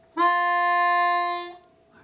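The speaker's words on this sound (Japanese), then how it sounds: "これ2番のファの音ですね。" A harmonica sounds a clear, full hole 2 F note blown with an open throat. It is one steady, bright tone of about a second and a half, close and alone.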